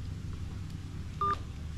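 Mobile phone keypad dialing tones: a short burst of steady beeps over a low background hum, close and clear.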